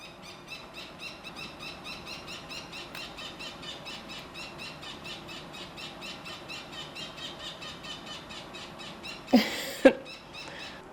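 A parrot gives two sharp, loud squeals near the end of a long stretch of steady, faint rhythmic chirping outdoors in a hot summer garden.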